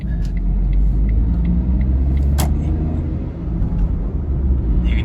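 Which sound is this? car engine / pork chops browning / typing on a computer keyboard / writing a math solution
car engine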